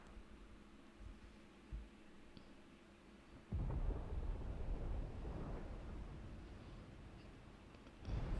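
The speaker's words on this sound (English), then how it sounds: "Sounds like thunder." In the video game Final Fantasy XVI, a deep rumble of thunder rolls in suddenly and lingers as a long, fairly loud roar over faint ambient tones, after a few soft thuds.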